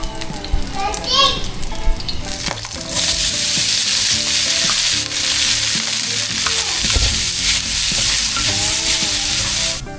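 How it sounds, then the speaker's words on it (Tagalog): Fried rice sizzles steadily in a pan and is stirred, a loud continuous frying hiss with scraping, while children play and chatter nearby in the background. "At ngayon naman po ay magsangag tayo ng ating fried rice."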